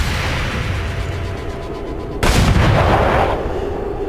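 Gunfire aimed at a sniper in the video game XCOM 2, a sudden loud boom-like shot breaking in partway through over steady game background noise and then ringing out briefly.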